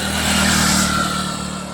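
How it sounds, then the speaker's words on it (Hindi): Motorbike on a foggy road, its engine swelling as it approaches and then fading as it passes, a mid-pitched drone heard alone without talk. "जिस तरह से सामने एक बाइक आ रही है"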